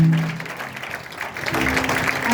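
A church congregation claps and cheers, the applause swelling and rising toward the end, heard at a moderate distance in a reverberant hall.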